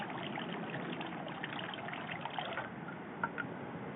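Water trickles and splashes steadily from a ladle at a Shinto shrine purification basin, a close, continuous pour with a few small drips near the end.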